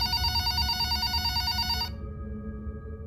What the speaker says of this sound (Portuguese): o nosso telefone tocou